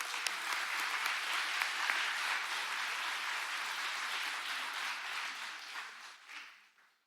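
Sustained audience applause at a Boys & Girls Club Youth of the Year event, steady and full for several seconds as speakers come to the stage, then tapering off toward the end.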